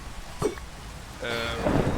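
Rain and a low rumble of thunder from a Minecraft storm, moderately loud with a swelling roll near the end, no voices.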